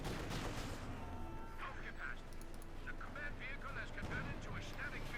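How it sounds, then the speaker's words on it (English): Flamethrower and assault rifle fire in a Company of Heroes 2 battle, heard as rattling bursts of gunfire and distant booms with a steady roar beneath. "The flamethrower is having quite an impact there alongside the assault rifles"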